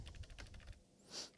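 Typing on a computer keyboard in a quiet room: a quick run of soft, close key clicks, then a brief pause and a final brighter tap.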